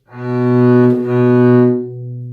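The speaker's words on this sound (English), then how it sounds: "We know that B is played with a 4th finger in 1st position." One bowed string note B, played with the fourth finger in first position, held for about two seconds, with a slight bow change midway, close and loud.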